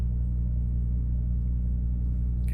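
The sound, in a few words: truck trailer reefer refrigeration unit running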